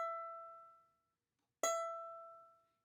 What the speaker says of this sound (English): Our E string should sound like this.